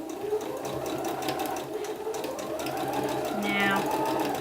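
A sewing machine stitching fabric for a dress at a quarter-inch seam runs at a steady, low whirr throughout, heard under continuous speech.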